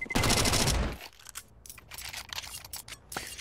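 Rapid AK rifle spray in Counter-Strike, a dense loud burst of automatic gunfire lasting about a second, followed by scattered quieter clicks and shots.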